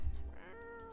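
A cat in a video game meows once, rising and then holding a clear tone toward the end, close and alone with no talking over it.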